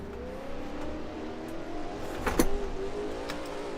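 Race car engine in the Assetto Corsa video game during ranked online racing, a steady tonal engine note that rises and falls through corner exits, with a brief louder burst midway.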